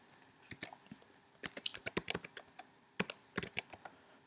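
Code being typed on a computer keyboard: crisp, close key clicks in uneven bursts, clustering into quick runs with short pauses between, and no one speaking.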